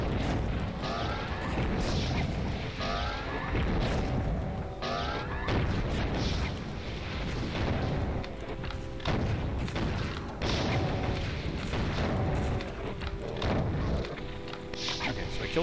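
A souped-up BFG-type weapon fires repeatedly in a Doom level amid a dense barrage of booming blasts and explosions, loud and continuous, with game effects layered throughout.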